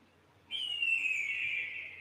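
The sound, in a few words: recorded hawk call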